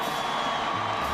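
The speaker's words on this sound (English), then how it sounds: "This Maryland crowd is up, and they are applauding, and they're cheering" Maryland's football crowd at the 2002 Peach Bowl against Tennessee sends up a dense, continuous roar of cheers and whoops, loud and steady throughout the short stretch.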